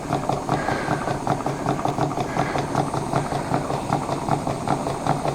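A small steam plant engine runs on about 20 psi of air with its governor spinning, giving a steady, close, rapid mechanical chuffing and rattling rhythm with no voices.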